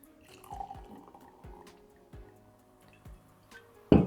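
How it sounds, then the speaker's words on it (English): Chapel Down Brut sparkling wine poured into a glass, a series of soft dripping, splashing sounds with faint fizz, ending in a louder close clink or splash. "So let's get this in the glass and see what it's like."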